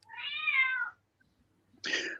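A pet cat lets out two distinct meows separated by a short silence, the first drawn out and the second sharper, both close and fairly loud with no talk over them.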